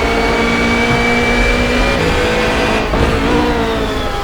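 Race car engine in the rFactor 2 racing game, a loud steady drone with the pitch stepping down mid-way as it downshifts toward third gear, alone with no talk.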